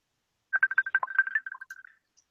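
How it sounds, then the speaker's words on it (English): A phone rings in a quick chirping electronic burst, a fast run of bright tones lasting about a second and a half and then fading out, with no talking over it. "See, my phone is ringing."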